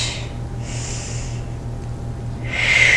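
Breath during a hip and outer-thigh workout: soft airy breaths, one early and one in the middle, then a louder, sharper exhale at the end, close over a steady low hum.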